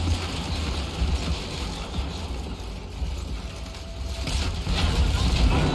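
Massed crossbow volley in the battle game Total War: Warhammer 3, with a thousand bolts loosed at charging bloodletters: a continuous clattering, ratcheting mechanical racket rolls on over the steady din of battle.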